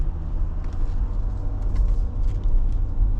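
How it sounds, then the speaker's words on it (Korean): An Audi diesel car idles and runs quietly, a low, steady engine rumble with faint road hum and small fluctuations throughout. "차량 상태가 상당히 조용하네요"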